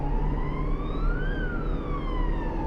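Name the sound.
police car siren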